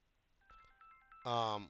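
A mobile phone rings with a close electronic tone, starting as a few short beeping notes and then jumping to a louder, sustained ringtone phrase, with no talk.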